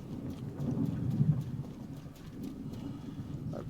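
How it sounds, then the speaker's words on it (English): A rumbling thunderstorm in the game Star Citizen, a steady low roll of thunder with rain-like hiss that swells and eases without a break. "Like we got a storm brewing."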